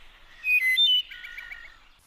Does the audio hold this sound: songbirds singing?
yes